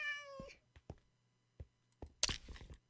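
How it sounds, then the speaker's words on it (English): A Minecraft cat gives a short meow, followed by faint scattered clicks and soft game noises, all quiet and close. "Well, that's a cat."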